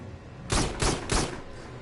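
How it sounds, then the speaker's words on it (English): Three heavy, rapid blasts of a rocket launcher's secondary fire in the VR shooter Farpoint, loud and close, evenly spaced about a third of a second apart, with a short ringing tail after each. "It's a Half-Life 2 style rocket launcher"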